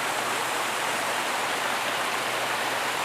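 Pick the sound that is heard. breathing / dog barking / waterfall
waterfall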